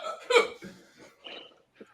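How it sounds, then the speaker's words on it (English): A person hiccups loudly and close to the mic, several sharp voiced catches in uneven rhythm, each followed by short breathy gasps, with the last hiccup small and isolated. "I have the hiccups."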